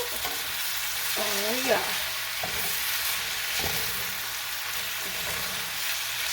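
A shrimp dinner sizzles steadily in a hot pan while it browns, with a few scrapes of stirring and a brief murmured voice over the frying.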